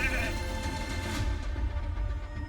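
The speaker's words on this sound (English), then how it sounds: "He got the sheep on us." Sheep bleat in a video game arena battle, a loud and continuous wavering call that lasts the whole moment. A deep, steady rumble from the game sits underneath.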